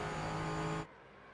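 A GT4 race car in the iRacing sim at New Hampshire, engine holding a loud steady high-revving tone that cuts off sharply near the end, no voices.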